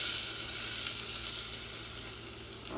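Vegan butter sizzles and fries steadily in a hot pan as it melts, a continuous crackling hiss at close range with no voices.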